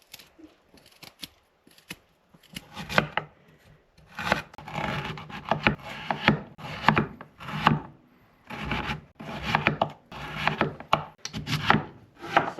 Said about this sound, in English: Good trick for peeling ginger is just using a spoon.